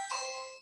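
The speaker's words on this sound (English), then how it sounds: "knocking on the door, ringing the bell" A doorbell rings once: a bright chime that sustains and fades out within a moment, clear and alone.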